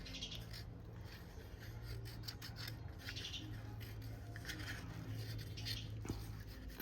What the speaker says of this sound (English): scrape that on the edge of the cup, just like that